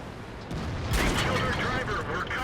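A sudden heavy boom from an enemy tank round striking the player's T34 tank in World of Tanks hits about a second in, followed by sustained rumbling battle noise, with a voice speaking over it.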